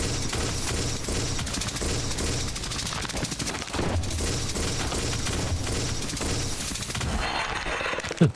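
Continuous automatic gunfire in the first-person shooter Mohrta, a dense, loud burst of rapid shots running the whole stretch without pause before cutting off sharply at the end.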